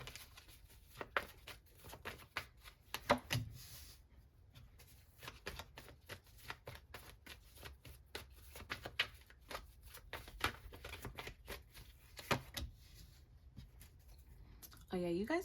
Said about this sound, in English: So let's keep pulling more cards to see what is your reputation